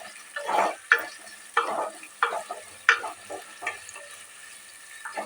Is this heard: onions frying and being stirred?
yes